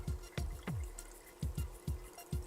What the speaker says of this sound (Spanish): primero vierte los 750 mililitros de agua destilada dentro del bol